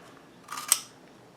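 A single crisp snip of scissors trimming excess material for a steampunk papercraft design, close and clear against a quiet background, with no talking.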